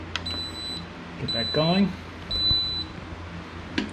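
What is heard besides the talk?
cooker timer beeping as it is set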